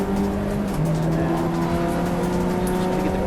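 Clubsport Trophy race car heading down the pit lane at Donington, a loud steady engine drone with a rising tone, close and continuous for a few seconds, alone without voices.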